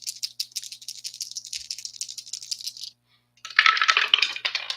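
Dice tumble and clatter across a surface in a Strat-O-Matic baseball tabletop game, a run of quick rattling hits, a short pause, then a louder burst of rolling clicks, close and with no talking.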